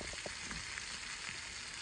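Leftover shrimp sear in a hot pan with a soft, continuous sizzle and a few small crackles and pops, fairly quiet and close, with no voices.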